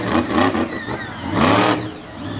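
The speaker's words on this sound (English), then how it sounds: "Love the blower whine in this truck, man." A show truck's supercharged engine revs hard in two loud bursts, the blower whine rising and falling over a deep engine rumble at a TN/GA state line event.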